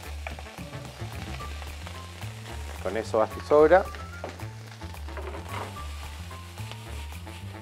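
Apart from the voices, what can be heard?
rice sizzling while being sautéed in a pan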